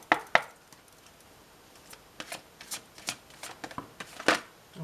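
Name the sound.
shuffling tarot cards for a birthday card reading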